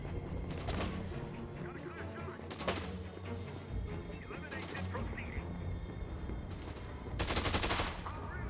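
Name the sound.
Blambo weapon firing in the video game Dead Rising 2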